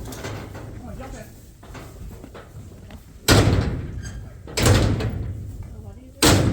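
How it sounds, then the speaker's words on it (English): A side door on a trailer or pen used for loading sheep bangs and slides three times, each impact sharp and loud, with quieter rattling and people talking between the hits. "We're gonna use the side door."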